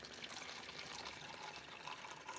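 Water pours from a kettle into a container for wool dyeing, a faint, steady trickling stream that runs for a couple of seconds with no break.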